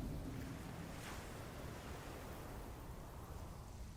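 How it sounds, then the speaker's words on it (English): Sea water ambience in the strategy game Endless Legend 2, a steady wash of surf and wind-like noise, continuous and even, with no speech. "Look at the sea. I love those water effects."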